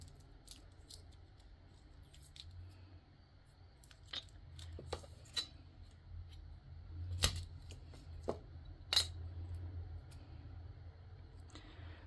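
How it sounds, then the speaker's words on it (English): Quiet snips of scissors cutting a small piece of material during resin crafting, a few sharp close clicks over soft background hum with no talking. "let me just cut a little piece off of this"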